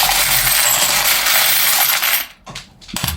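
Oracle cards handled during a reading: a sustained loud papery rustle and clatter, then a brief light drop and a couple of small taps as a card falls, with no voices.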